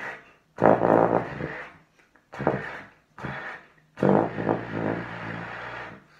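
Low B flat blown on a student trombone, four separate loud, buzzy, blatty notes of varying length with short silences between, close to the mic.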